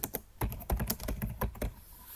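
Rapid keystrokes on a computer keyboard while entering text in Microsoft Word 2016, an irregular run of crisp, close clicks with short pauses between bursts and no voice.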